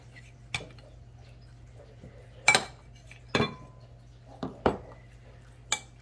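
Bowls and utensils clink in a home kitchen while salmon croquette mix is split into a separate bowl: about six sharp, separate clinks and knocks, a few of them louder, over a low steady hum, with no talking.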